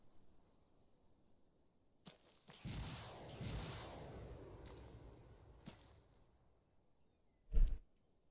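Rocket artillery fire from a Sandstorm launcher in Arma 3: a sharp launch at about two seconds, then a long rushing whoosh trailing away, and a louder blast near the end.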